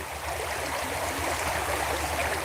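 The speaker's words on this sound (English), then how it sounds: "there's a lot of water movement here" Moving water in a creek rushes and gurgles steadily at close range, a continuous broadband wash with a low rumble beneath, unbroken and without voices.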